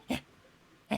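Two short yips from a dog indoors, faint and spaced apart, with quiet room tone between them and no talk.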